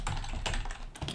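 Quick, close clicking of keys on a computer keyboard, a brief run of steady typing with no voices.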